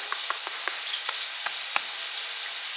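Lamb browning in a pot for soup, a steady loud sizzle and crackle of frying meat with several short sharp pops and spits close up.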